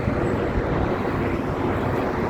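A plane roars overhead at Heathrow Airport, a loud, steady broadband jet rumble with wind buffeting the microphone, filling the whole moment without any voices.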